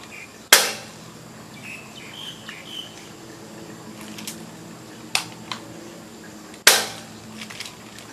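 A bead gun (pistol manik) fires twice with sharp, loud cracks, several seconds apart, each fading quickly, with a few fainter clicks between them over steady insect-like buzzing.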